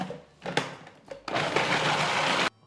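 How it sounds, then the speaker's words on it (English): A blender whirring through a cold pork liver pâté mix, with two short pulses and then a sustained loud run that cuts off abruptly, close up and with no talk. "and we blend once again"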